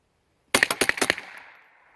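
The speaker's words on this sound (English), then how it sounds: "Let's see if it'll shoot as fast as a Beretta submachine gun." A Squires Bingham model 50 .22 LR rifle fires a fast string of about six close, sharp shots, the echo trailing off after the last one.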